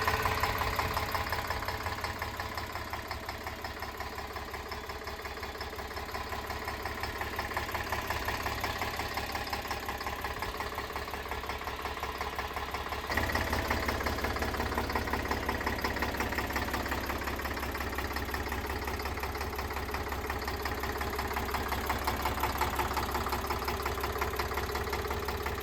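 A Mahindra 585 DI tractor diesel engine idles steadily nearby, a continuous low rumble with a faint knocking pulse that holds alone throughout, swelling slightly midway.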